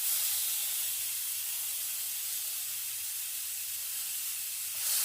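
Marinated spiced chicken skewers sizzle in a very hot frying pan, a steady close hiss that barely changes throughout, with no talking.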